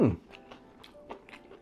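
Close chewing of crunchy Isan-style venison larb with fresh mint and herbs, a run of soft irregular crunches after a brief low thump, with faint background noise.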